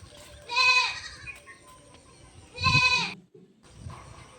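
A pregnant goat lying down bleats twice, loud and close, each cry drawn out over about half a second, with quiet farmyard background between calls.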